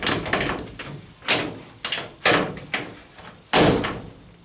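Front right door of a Citroën Traction 11B being shut and locked from the inside, a series of sharp metallic thunks and latch clacks at uneven intervals, close and loud, with no talking.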